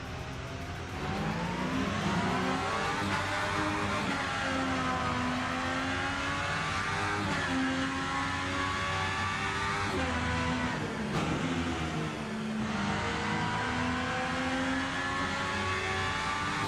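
Race cars in a sim racing game drag race, engines roaring loud and continuous as the revs climb and drop through gear changes, one steady engine wail filling the whole stretch with no talking.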